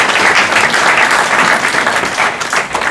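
A church congregation breaks into steady, sustained applause, many hands clapping at once in a dense, loud wash of sound that carries evenly throughout without any break.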